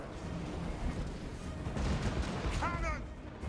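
Cannon fire booms out in a Warhammer 2 Total War battle: distant-sounding, rumbling blasts under a busy battlefield mix, fairly faint overall.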